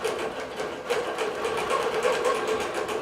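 A computerized quilting machine stitches an Aloha Petite design across a quilt, a steady fast mechanical whirring chatter with rhythmic needle pulses, close and continuous with no voices.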